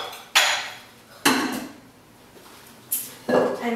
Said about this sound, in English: Let's move some of our dishes out of our way